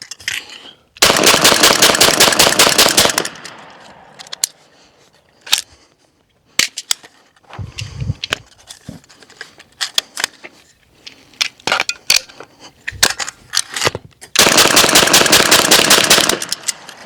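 A BINTAC T9 semi-auto 9mm airgun firing slugs from a belt-fed magazine: two long bursts of rapid, loud, crackling shots, with scattered single shots and mechanical clatter between them.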